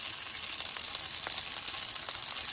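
Lamb chops sear in a hot pan, bone side down, giving a steady, close hiss and crackle of sizzling fat that runs unbroken, with no voices.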